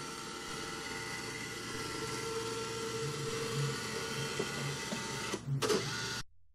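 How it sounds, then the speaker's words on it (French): A flatbed scanner runs a page scan for OCR, a steady whirring motor drone with faint periodic mechanical ticks, ending in a brief louder clunk before it stops. "OCR à partir du scanner lancé."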